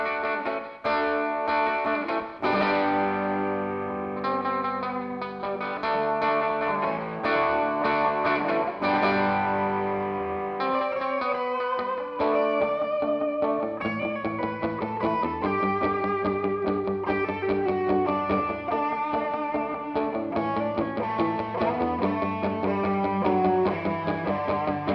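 Electric guitar run through chorus, distortion and other effects plays a song, sustained chords and ringing single notes filling the whole stretch at a steady, loud level with no talking.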